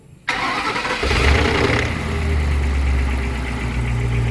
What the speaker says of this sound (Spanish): vamos ahora a poner en marcha el motor